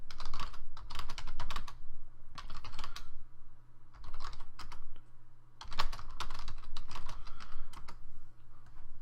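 Fingers type on a computer keyboard in quick bursts of rapid clicking, separated by short pauses, close and fairly loud with a steady low hum underneath.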